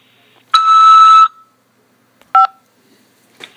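A prison phone line gives a long steady electronic tone, then a short two-tone beep and a faint brief blip, each alone against near silence.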